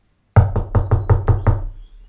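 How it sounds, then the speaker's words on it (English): Seven firm knocks on a wooden cottage door, evenly spaced in a quick steady rhythm, close and loud, with no voices. "When he arrived, he knocked politely on the door"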